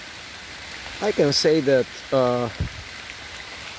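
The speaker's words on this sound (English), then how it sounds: "I hope you are hearing the beautiful sound of the rain here in these woods" Steady soft rain falls through woodland as a constant close hiss, while someone talks briefly over it in the middle.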